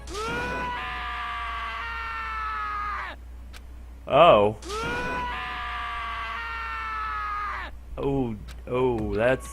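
A cartoonish anime-style scream from a character in the Danganronpa video game rings out in long, drawn wails with wavering pitch, followed by shorter strained yelps and a brief spoken exclamation.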